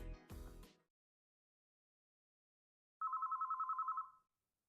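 A telephone in the video game White Album rings in one warbling, trilled burst of about a second, clear and alone, after a brief snatch of music.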